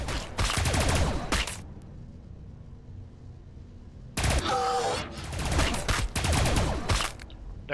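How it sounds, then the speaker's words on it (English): Gunfire aimed at a Tyranid unit in the Warhammer 40,000 video game: two dense bursts of rapid, loud shots separated by a quieter stretch with a low hum. "I'm just gonna shoot the crap out of this baby-making machine here"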